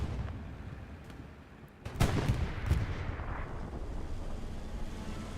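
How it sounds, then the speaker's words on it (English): A bombing run in the Hell Let Loose video game on Omaha Beach, with a sudden heavy blast and a few sharp explosions around the two-second mark, followed by a sustained low rumble of distant gunfire and battle noise. "bombing run coming down to the bottom"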